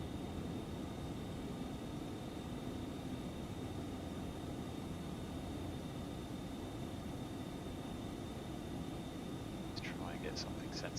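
A Phenom 300 jet in the X-Plane 11 flight simulator climbs after takeoff, its engines making a steady, continuous roar with a thin high whine running through it and a few faint clicks near the end.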